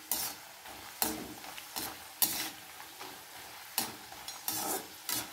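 Papads frying in hot mustard oil, with bursts of crackling sizzle rising and falling as each piece hits the oil, alongside occasional stirring and utensil clatter, with no talk.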